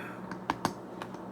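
Several sharp, separate clicks of typing on a computer keyboard, a few irregular keystrokes close by against a quiet background, with no talking during the keystrokes.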